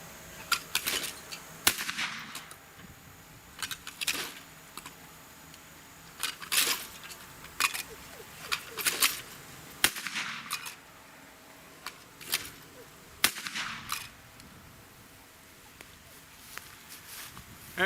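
A 2016 Mossberg 930 Sporting 12-gauge gas-operated shotgun fired repeatedly outdoors, sharp loud cracks spaced a second or two apart, some in quick pairs, with quieter handling clicks and low background between shots.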